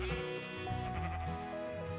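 Sheep in modded Minecraft bleat repeatedly with steady, overlapping calls and no pauses between them, against a constant background of game sound.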